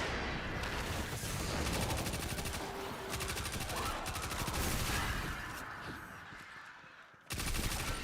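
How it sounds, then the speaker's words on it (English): Gunfire in the video game Destiny 2, with sustained rapid automatic bursts and heavy shots, loud and continuous, briefly dropping out near the end before resuming. "I just tried to shoot my own shadow"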